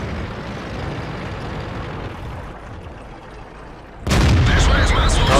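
A loud, sudden tank cannon shot in World of Tanks cuts in after a steady rumble of engine and battle noise, followed by sustained heavy roaring.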